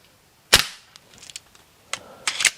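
An Artemis CP2 CO2 4.5mm air pistol fires a single sharp shot at a 6-metre target, with a short crack, brief rustling afterward and then a second close, fainter snap of handling or pellet impact.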